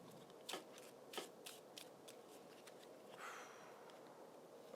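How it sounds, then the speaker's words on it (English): Deck of cards being shuffled during a Marvel Champions board game at a table, a series of soft riffling bursts and papery flicks, fairly quiet and close, with no talking. "I'm going to shuffle my deck whilst you take your turn"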